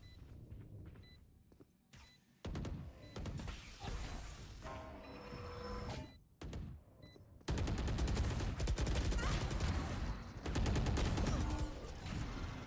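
Gunfire rings out in a Valorant esports match as a Sheriff pistol fires, loud sharp shots in bursts with brief pauses, then a dense stretch of rapid firing, with game effects and faint caster talk beneath.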